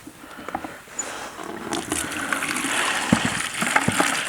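Tap water gushing and splashing into a bucket while filling it for washing caravan windows, a steady rushing splatter with a few louder knocks near the end, fairly close.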